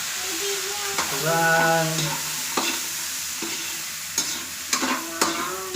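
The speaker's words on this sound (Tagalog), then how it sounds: "Naririnig nyo po yung pagitsit ng ating upo." Bottle gourd (upo) sizzles and crackles in a hot pan while being stir-fried, with a steady frying hiss and scraping stir strokes close by; a voice speaks briefly.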